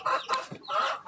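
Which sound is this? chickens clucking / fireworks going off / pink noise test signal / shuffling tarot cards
chickens clucking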